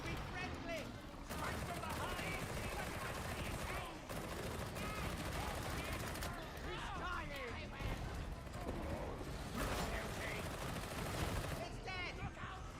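Dense, continuous rapid gunfire in Warhammer 40,000: Darktide, bursts of automatic fire layered with impacts and clatter, loud and sustained throughout.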